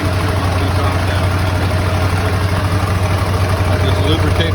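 A Blue Barron Compact 45 truckmount engine idles steadily and loudly, a continuous low throbbing rumble with a fast regular pulse that never lets up.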